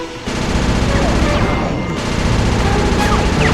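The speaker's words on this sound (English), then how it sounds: "Rajan is raining down a bunch of hunter-seeker bombs on Murray" Hunter-seeker bombs rain down in the Sly 2: Band of Thieves video game, a loud dense barrage of rapid explosive bursts layered under game music and effects.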